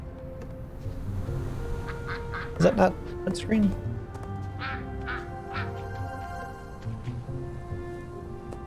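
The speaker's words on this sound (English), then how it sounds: "Azeroth does in fact have ducks." Ducks quack in World of Warcraft, a short cluster of loud, nasal quacks rising over game music and ambience, while a person talks around them.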